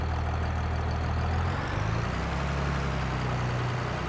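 A tractor engine runs in Farming Simulator 22, giving a steady, low, rumbling drone with a slight shift in pitch partway through, heard alone at moderate volume.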